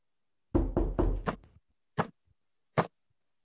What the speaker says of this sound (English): Let us rap loudly upon the door